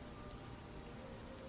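Steady rain falls on a surface as a constant soft hiss of droplets, faint and even throughout, with no voices.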